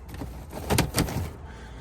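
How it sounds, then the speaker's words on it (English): Sliding side door of a VW Transporter T4 van rolling along its track, a short rumbling slide with two firm clunks close by, then settling quiet. "And also, so got a sliding door."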